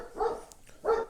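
Two loud, close dog barks about half a second apart, indoors in a child's room, with nothing else around them.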